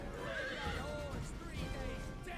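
Cavalry horses in the video game Total War Attila whinny and neigh amid a dense rumbling battle din, with hoof clatter and a voice talking over the steady roar.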